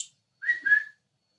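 A woman whistles with her fingers, one short, sharp two-part whistle that rises in pitch, heard alone against silence.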